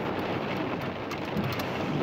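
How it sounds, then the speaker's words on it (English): Heavy rain falls outside a van, a dense, steady hiss of drops drumming on the vehicle with no pauses and no talking. "Rain is coming down."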